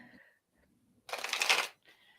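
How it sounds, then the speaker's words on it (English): A deck of tarot cards is riffle-shuffled in one quick burst of rapid papery flutter, close and distinct, with brief faint voices around it. "if ever you are shuffling cards and a card comes flying out, don't put it back"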